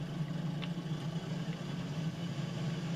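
A tractor engine idling in Farming Simulator 22, a low steady rumbling hum held at an even level with no change in pitch, moderately quiet throughout.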